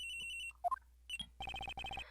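A phone rings in the Ace Attorney Investigations: Miles Edgeworth video game, with a synthetic electronic ringtone: bright repeated beeping pulses in quick bursts, followed by a short chirp and then rapid trilling rings, clear and alone.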